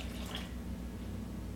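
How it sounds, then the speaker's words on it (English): Water trickles and drips into a pot of cooked potatoes sitting in a little leftover cooking liquid, making a soft, close, continuous splashing over a low background hum. "so I'm just going to add a bit more water."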